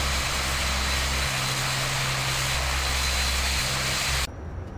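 Majestic Dash 8 Q400 propeller engines set to max RPM in Microsoft Flight Simulator X: a steady, loud turboprop drone with low propeller thrum and broadband roar, holding constant before dropping abruptly near the end.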